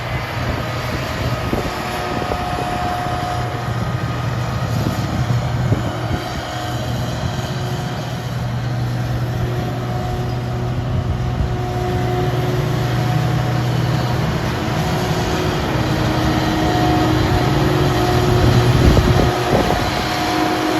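A combine harvester's engine drones steadily while the machine travels down the road at low speed, a loud continuous rumble with a constant pitch and no speech.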